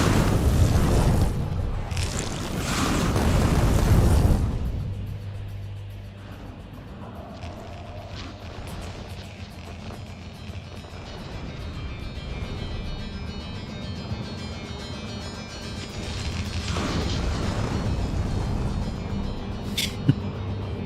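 Land mines blow up in Factorio with the Rampant mod. A loud burst of explosions comes first, then a long stretch of quieter rumbling with occasional faint pops.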